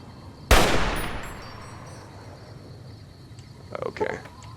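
A single loud gunshot from a weapon in Fallout New Vegas cracks up close and rings out into a long decaying echo, followed by faint clattering and a few short metallic sounds.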